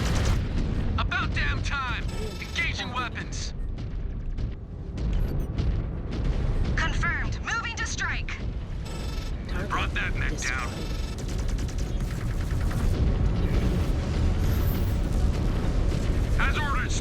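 Ghost Bear Clan mech combat in a video game: rapid weapons fire, booming explosions and energy blasts in dense bursts, with radio-style voices talking over the din throughout.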